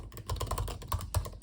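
Fingers type steadily on an M1 MacBook Air keyboard, producing a rapid run of soft, close, muted key taps with no talking.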